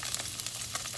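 Garlic sizzles in hot oil in a pan, a steady, close hissing crackle with soft pops and no talking.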